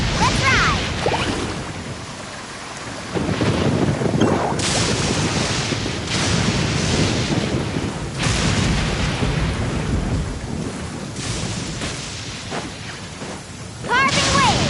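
Surfboard riding over waves in the video game Genshin Impact, with loud, continuous rushing water and crashing surges that swell and break repeatedly, close up, with a voice speaking over it.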